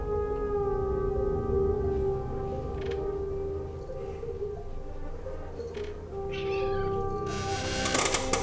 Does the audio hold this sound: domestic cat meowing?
yes